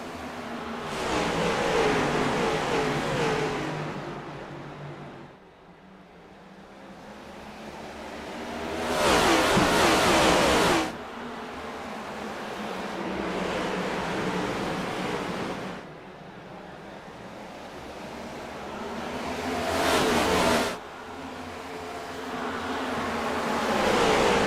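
Race cars circle Richmond Raceway in a roaring, continuous engine noise that swells and fades in repeated passes as packs go by, loud and washed with wind-like rumble throughout.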